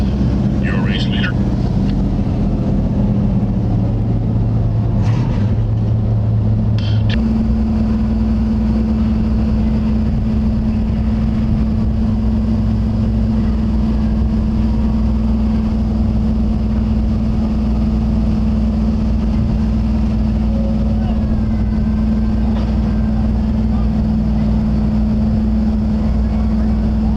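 Race cars circling a track during a 10-lap semi-final qualifier, a steady engine drone with shifting pitch running under an announcer's constant commentary.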